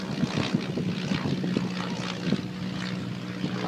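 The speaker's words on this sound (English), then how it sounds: "Just overhead there is a fighter plane, World War I biplane going over." A World War I biplane fighter drones overhead with a steady propeller engine hum, continuous and moderately loud above an allotment, with some outdoor background noise.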